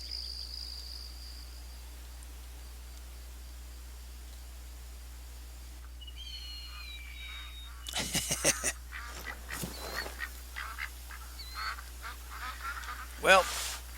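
Ducks quack in theHunter: Call of the Wild, a hunting video game, with a burst of loud overlapping calls in the second half after a quiet stretch of steady low hum and faint ambience.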